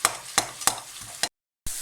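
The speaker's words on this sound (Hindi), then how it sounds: "अभी ये मसाला भुना जाएगा" Masala for a kaleji (liver) curry is stir-fried in a pan, with several sharp scraping strokes of the spoon over a low sizzle, a brief silent gap, then the sizzle resumes.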